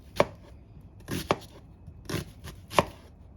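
A knife makes small mincing cuts through food on a cutting board, four separate sharp chops spaced about a second apart, close and clear with no talk.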